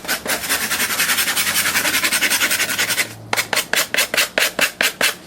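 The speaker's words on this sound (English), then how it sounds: "Okay, I scrape it off a bit." A knife scraping the outside of cinnamon bark, a steady run of rhythmic rasping strokes that turn slower and more separated toward the end, close and loud with no talk.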